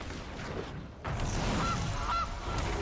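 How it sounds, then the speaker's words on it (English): A goose in a Magic card game honks in short, clear bursts, a couple of calls close up over a steady background. "Kill the goose."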